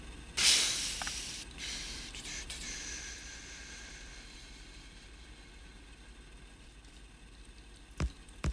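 Steam engines in Factorio, modded with the Marathon mod, release a sharp burst of hissing steam that fades into a steady, low machinery drone, with a few soft clicks near the end.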